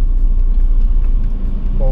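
A BAIC B40 Trail-master 4x4 SUV idling with a steady low engine rumble close by, a rising whine near the end, while a person speaks over it.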